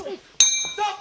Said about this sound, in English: And there goes the bell.